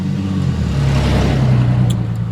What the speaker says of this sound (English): It's like all the cars loud on this block, don't it?